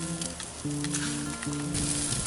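Chicken wings sizzle steadily on a hot grill, a close, continuous frying hiss with light crackles and no talking.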